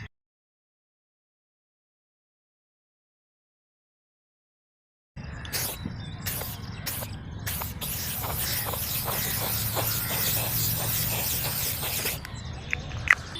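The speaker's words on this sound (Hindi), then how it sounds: "तो चलिए फिक्सेटिव स्प्रे करते हैं अभी।" Fixative is sprayed onto a soft pastel drawing. After about five seconds of silence, short close hissing bursts start and then run into a steady, sustained spray with small pauses until near the end.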